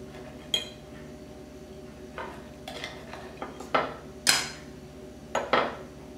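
Cutlery on a plate while a slice of pork chop in sauce is cut: a series of sharp metallic clinks and scrapes, spaced irregularly and close by, with no talking.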